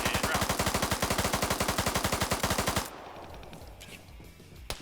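Sustained automatic gunfire in a video-game firefight: a loud, rapid, evenly spaced burst of shots lasting nearly three seconds, then a quieter tail with a single distant shot near the end.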